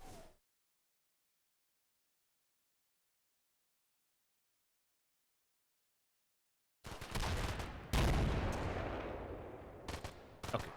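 Machine-gun fire in the video game Combat Mission: Black Sea: after a long silence, loud, heavy bursts of automatic fire break out and rattle on for several seconds.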